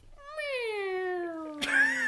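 A single drawn-out meow with a long, slowly falling wail, close and clear, ending in a brief harsh burst of noise as it fades; it may be a human voice imitating a cat.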